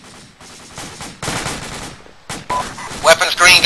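Gunfire and machine-gun bursts in a military shooter video game, a series of loud, close volleys of rapid shots separated by short gaps, growing denser and sharper toward the end.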